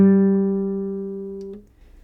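The open G string on a guitar is plucked once, ringing as a clean sustained note that slowly fades, then stops abruptly as it is damped.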